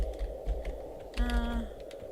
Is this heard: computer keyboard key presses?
yes